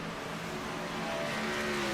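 Race car engines in a racing video game at Auto Club Speedway, a pack of cars droning steadily with revs that sag and rise as one driver dips the clutch, loud and continuous with no talk.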